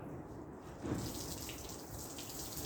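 Tap water is turned on and runs in a steady, close rush that continues to the end with no talk over it, heard while working on an engine that is about to be started for a cylinder test.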